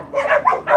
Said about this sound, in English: the dog girl who we named Yogi